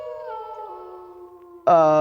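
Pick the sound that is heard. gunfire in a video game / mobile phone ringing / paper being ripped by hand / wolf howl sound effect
wolf howl sound effect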